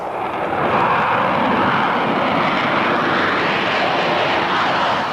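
Broadband roar of the Northrop ATF Advanced Tactical Fighter jet at Edwards Air Force Base, steady and loud throughout, a sustained engine rush with no voices.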